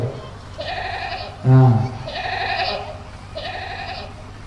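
Goat bleating, three drawn-out nasal bleats in a steady rhythm, close and clear, with a short loud voice breaking in between the first and second calls.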